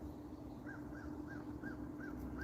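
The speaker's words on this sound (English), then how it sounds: "As the crow is talking" A crow caws in a steady run of about six short, evenly spaced calls, moderately distant and fairly faint over a constant low background hum.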